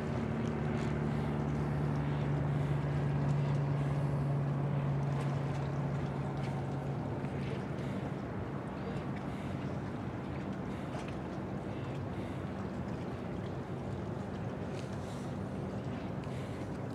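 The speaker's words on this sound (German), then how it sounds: "Da fahren noch 2 Schlepper rein." Two tugboats enter the Hamburg harbour with a continuous low, distant engine drone and some wind noise, steady throughout with no speech.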